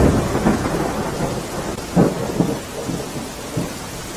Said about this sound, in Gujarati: અમદાવાદમાં સામેલાધાર વરસાદ પડ્યો છે